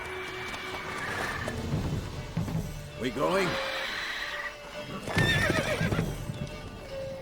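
A horse in The Witcher 3 whinnies twice with loud, drawn-out neighs, clip-clopping hooves and game sounds around them, while someone speaks briefly.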